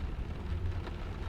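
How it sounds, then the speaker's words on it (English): Steady, soft rain falls during a misty drive through Ireland, a faint, even hiss with a low rumble beneath, continuous and unbroken with no voices. "It rains still"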